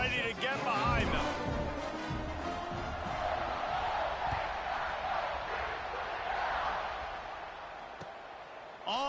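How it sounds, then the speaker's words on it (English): A stadium crowd roars and cheers in a college football video game, a broad sustained wash of noise under a commentator's voice, with a sharp click near the end. "this crowd now ready to get behind them"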